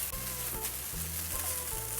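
Food sizzles steadily in a hot pan while a utensil stirs it, giving a close crackling hiss with faint scraping movements and no talking.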